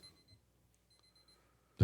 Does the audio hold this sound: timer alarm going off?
yes